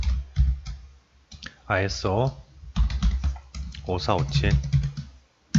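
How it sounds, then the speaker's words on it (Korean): A computer keyboard types a standard number into a search box: quick, light key clicks in short bursts under someone talking steadily. "번호로 검색할 때는 공백 없이 이걸 주르륵 다 타이핑을 하는 걸로 이렇게 나와 있네요"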